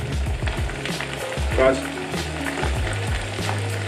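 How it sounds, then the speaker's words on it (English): Chickpeas, onions, garlic, parsley and coriander sizzle as falafel mix fries in a pan, a steady close crackle over a low tonal background, with one brief spoken word. "frying chickpeas, onions, garlic, and all the parsley and coriander."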